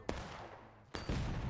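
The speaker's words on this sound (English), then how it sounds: "Direct impact on the cannon there from that artillery shot" An artillery shot scores a direct hit on a cannon during a 160-player online line-battle game event. Two sharp, loud booming blasts land about a second apart, each followed by a rumbling tail, with no voices.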